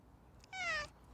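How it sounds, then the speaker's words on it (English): A house cat gives a single short, clear meow, fairly close but soft, against a quiet room. "here's my cat, say shalom"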